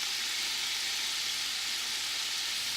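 Butter melts and sizzles steadily in a hot pan while Dijon meatballs are cooked, a loud, continuous frying hiss with no talking.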